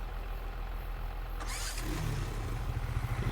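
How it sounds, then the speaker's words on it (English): A farm vehicle engine cranks and catches in Farming Simulator 25, a brief starter burst followed by a low, steady idle rumble that settles in and continues. "start the engine."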